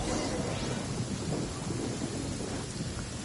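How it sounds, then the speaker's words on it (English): Rumbling thunder from a lightning storm in the video game Genshin Impact, mixed with steady rain hiss. It forms a continuous dense roar throughout. "Uh-oh! Lightning storm! Just our luck."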